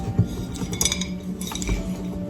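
Dollar Tree dinner and salad plates are handled nearby, giving light ceramic clinks and knocks scattered over a soft background, no talking.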